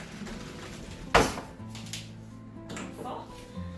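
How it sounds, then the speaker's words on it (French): A spoon is fetched and clinks against dishes in a kitchen while making homemade dish soap, one sharp close clatter standing out over steady background noise, with faint talk around it. "je vais vous revenir chercher une cuillère"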